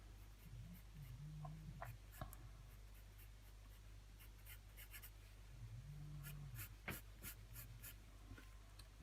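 Pencil drawing the mouth of an anime male head in side view on paper, a soft continuous scratchy scribble of graphite against paper, quiet and close, with faint hum and low background noise.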